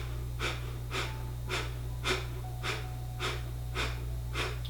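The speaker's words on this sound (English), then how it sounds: "Breathe in through the nose, out halfway." Rhythmic breathing during a yoga interval flow, eight evenly spaced breath pulses through the nose, steady and close, with a low constant hum underneath and no talking.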